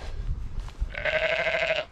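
A single lamb bleats once, a clear wavering bleat at moderate distance, preceded by faint outdoor rustling.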